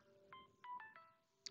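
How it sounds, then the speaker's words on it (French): A mobile phone rings indoors at a craft table during cross-stitch work, a few short bright electronic chirps in a repeating pattern, fairly quiet and close, with no talk over it. "il y a mon téléphone qui sonne"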